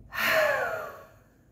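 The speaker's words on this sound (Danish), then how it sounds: "ånder kraftigt ud" A forceful breath blown out hard during a breathing exercise, one strong airy rush that peaks quickly and then tapers off over about a second, close and alone.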